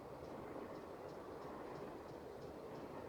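A passenger train rolls along in the video game Nancy Drew: Last Train to Blue Moon Canyon, giving a faint, steady rumble with soft, regularly spaced wheel clicks, continuous and distant-sounding with no voices.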